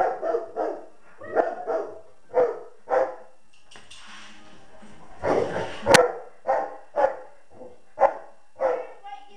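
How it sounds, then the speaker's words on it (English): A house dog barks repeatedly in sharp, loud, close bursts at an uneven rhythm, with a longer growly whine-bark in the middle and short pauses between yaps. "My dog is being extremely annoying."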